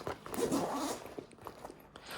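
The main compartment zipper of a North Face Stratoliner backpack is pulled open in a steady, raspy run, followed by softer rustles and small ticks from the fabric, close by.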